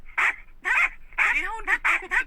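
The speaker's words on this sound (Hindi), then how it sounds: "भौंकते हुए बहुत सारे कुत्ते उसके किचन के अंदर घुस गए।" Several dogs bursting into a kitchen, giving a rapid run of loud, close barks in short clusters with brief pauses between them.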